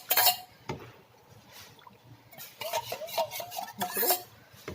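A utensil stirring rice flour into hot water in a pot, with irregular scraping and clinking strokes against the pot that come in bursts, close and moderately loud, no speech.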